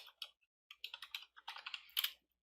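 Rapid bursts of computer keyboard typing as a name is entered, irregular clusters of close, crisp key clicks with short pauses between, no voices.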